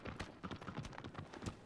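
Argo the horse in Shadow of the Colossus on PS4 Pro, hooves clip-clopping in a quick, steady galloping rhythm, fairly faint.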